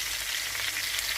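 Chilli pepper chicken wings sizzle loudly and continuously in a frying pan: a dense, close, hissing crackle with no pauses.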